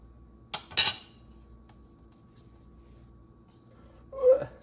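A knife cuts through a grilled peanut butter and jelly sandwich, a few short scraping crunches followed by a clink of cutlery near the end, quiet and close.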